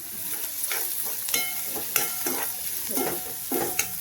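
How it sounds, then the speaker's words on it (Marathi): Chopped onion sizzles in a hot pan, a steady frying hiss broken by repeated scraping stirs at an uneven rhythm, close and moderately loud, with no talking. "कांदा आपला छान फ्राय झाला ना मस्त लागतो मैत्रिणी"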